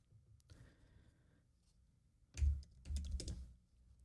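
Quiet typing on a computer keyboard: a stretch of soft clicks, then two louder bursts of rapid keystrokes close to the microphone.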